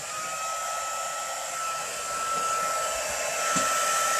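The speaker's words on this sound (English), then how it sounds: "I'm going to pull out my embossing tool, my heat tool" A craft heat tool blows hot air steadily to melt embossing powder for a watercolour resist card, a constant close-up whooshing hum with no talk.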